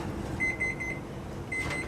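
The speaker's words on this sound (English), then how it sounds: "The oven timer goes off" Oven timer going off in a home kitchen where gingerbread is baking, two short electronic beeping bursts, faint against a soft room hum.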